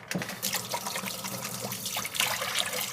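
Water runs steadily from a tap while hands are washed in a home kitchen during banana bread baking, a continuous close splashing rush with small variations.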